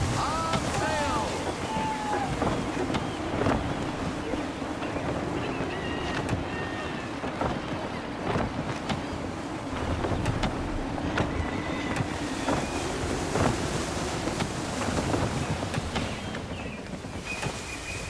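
A sailing ship in Assassin's Creed III pushing through gusty wind and rolling waves, a steady broad rush of wind and water running throughout with creaks and splashes, and a voice speaking over it.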